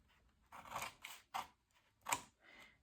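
Scissors snip through paper while cutting out an origami box template, with four or five quick, crisp cuts spaced unevenly across a few seconds in a quiet room, each a short papery crunch.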